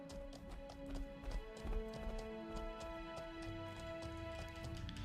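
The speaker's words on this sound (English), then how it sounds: "Horse takes more stamina usage when you run top speed" Horse hooves pound in a fast, steady galloping clatter in the online game Mortal Online 2, running at top speed, heard close over a sustained droning musical hum.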